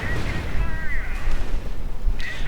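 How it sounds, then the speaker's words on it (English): Artillery fire booms in a World War II strategy video game, a dense rolling rumble of shelling and gunfire sitting under steady commentary talk. "Artillery going in there, closing in the Grenadiers"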